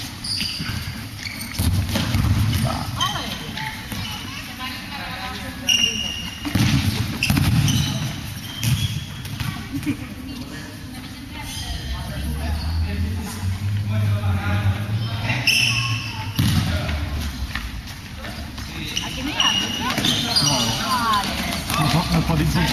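A futsal ball bounces and gets kicked on an indoor court during a local derby, repeated thumps and scuffs of shoes amid players shouting and talking throughout.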